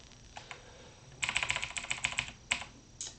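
Clacking keystrokes on a Razer computer keyboard, a few isolated taps followed by a quick burst of rapid typing and then scattered single presses, close and clear with no talking.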